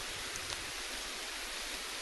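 Steady rain falls during an Islamic women's prayer gathering, a dense, even hiss of drops that fills the whole stretch at a constant level, with no other sounds rising above it.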